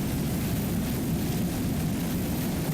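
Crime Buster, a 32-foot Skater offshore racing powerboat with 3.2.5 EFI engines, roars at full throttle during a 1999 West Palm Beach offshore race: a steady, loud, dense engine drone mixed with rushing wind and water noise, unbroken throughout.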